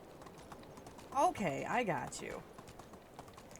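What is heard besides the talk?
tired donkey's hoof sounds in video game Medieval Dynasty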